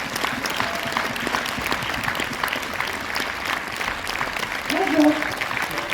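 Sustained audience applause fills a cinema at a film premiere in Orléans, an ovation for actress Mélanie Laurent, steady dense clapping throughout with a brief louder swell near the end and faint voices mixed in.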